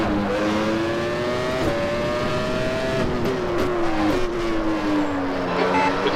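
A Formula One race car engine in a 1996 racing game at Imola screams steadily through the whole run, its pitch climbing and dropping through gear shifts, loud and close with a faint tire squeal.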